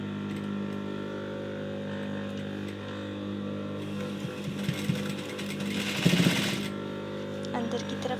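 A sewing machine stitching a folded fabric edge on a shirt, its steady mechanical whir holding throughout, with a busier rattling burst near the middle.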